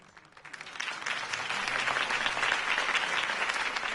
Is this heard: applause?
yes